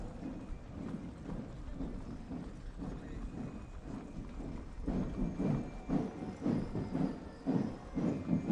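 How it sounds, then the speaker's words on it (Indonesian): Massed hooves of about 55 cavalry horses parading with mounted soldiers at a military anniversary procession, a steady rumbling clatter that grows louder and more rhythmic partway through, set against broad outdoor crowd noise. "Dengan jumlah 55 ekor kuda, dengan komposisi pasukan yang terdiri dari prajurit kavaleri berkuda"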